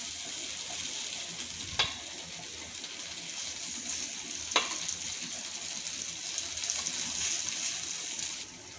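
Vegetable patties sizzle steadily in a pan on a medium gas flame, with a couple of sharp knocks as they are flipped, close and continuous without speech.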